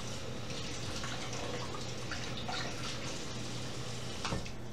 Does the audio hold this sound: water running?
yes